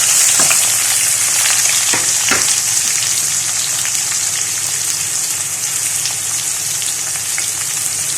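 Chopped onions sizzle and crackle steadily in a hot pan for chicken curry, a loud continuous fry with occasional sharper pops and stirring scrapes.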